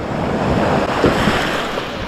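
Atlantic surf washes onto Sunset Beach in a steady, full roar of breaking waves, with wind buffeting the microphone and nobody talking.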